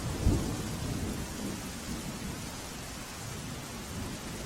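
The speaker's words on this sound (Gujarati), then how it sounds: "વાપી શહેર અને આસપાસના વિસ્તારોમાં વરસાદ જામ્યો છે" Rain falling steadily over Vapi in Valsad district, Gujarat, with a single low thunder rumble near the start, then a constant dense hiss of rain with no voices.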